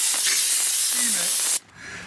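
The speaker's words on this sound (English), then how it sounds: "Steamer actually helps a huge amount." Handheld steamer hissing loudly and steadily as window tint residue is loosened on a 2003 SVT Focus; the broad hiss cuts off abruptly near the end, leaving quieter background.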